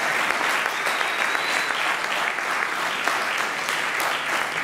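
A church congregation applauds to acclaim the Lord, sustained dense clapping from many hands filling the room at steady loudness throughout.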